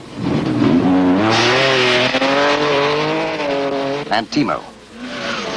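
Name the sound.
Finnish rally car skidding with front wheels locked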